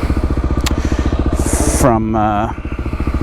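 A 2005 Kawasaki KLX300R plated dirt bike engine thrums with a steady, rapid single-cylinder pulse while riding, close and loud, with a brief voice cutting in briefly partway through.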